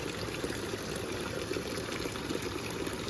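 Water from a small fountain-like spring in the Janjehli Valley pushes up from below with a steady, close, continuous gush and splash, unbroken for the whole stretch with no voices.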